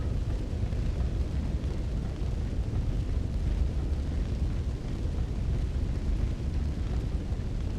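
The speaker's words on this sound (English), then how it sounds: "Church is on fire." A church burning in Dark Souls 3, a steady low roaring rumble of fire that holds at an even, fairly loud level throughout with no talk over it.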